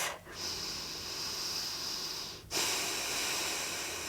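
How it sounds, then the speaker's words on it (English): A long, steady airy inhale in a yoga bridge pose, then a brief pause and a slightly louder sustained breath, close and alone. "Take a deep breath."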